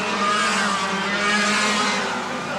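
Junior CIK racing karts at Bercy screaming past in a close group, a dense high-pitched engine whine that swells and fades slightly, loud and continuous.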